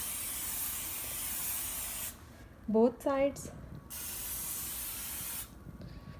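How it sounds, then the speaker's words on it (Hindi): Cooking spray hisses onto a pan in a couple of quick bursts before a chicken quesadilla is grilled, with someone talking briefly between them. "पहले आपने इसके ऊपर कुकिंग स्प्रे करना है"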